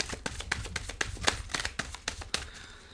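A deck of tarot cards is shuffled by hand with crisp, irregular snaps and riffles, close and clear, with no talk over them.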